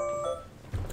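An alarm clock beeps briefly with a faint, steady electronic tone that sounds for about half a second and then stops.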